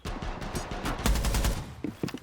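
Rapid bursts of para submachine gun fire in a video game, sharp close shots in quick succession with short gaps between bursts.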